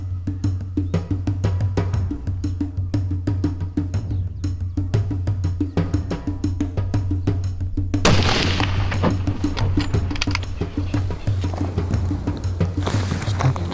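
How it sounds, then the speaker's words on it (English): A hunting rifle fires on an African safari hunt: a single loud, broad blast partway through, over steady low engine-like rumble and outdoor background, with no talk during the moment. "Shoot him when you're ready, Chad,"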